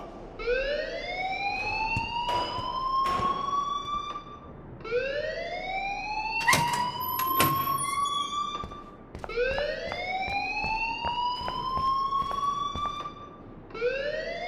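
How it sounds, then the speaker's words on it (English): School alarm in Life is Strange video game: a loud rising electronic wail that sweeps upward and repeats about every four to five seconds, steady and continuous with faint background noise beneath. "please turn off that alarm since that's your job"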